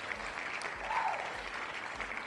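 A crowd applauds in a steady, dense wash of clapping that holds at an even level for about two seconds, with no voices standing out.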